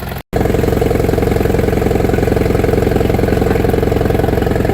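A 1959 International Harvester B275 tractor engine idles fast and steady, a loud close rumble with even rhythmic firing pulses after a brief cut at the very start, with no talking.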